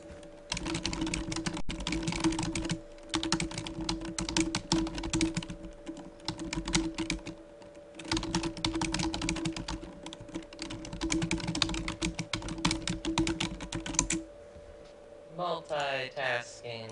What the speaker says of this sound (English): Pounding away on keys.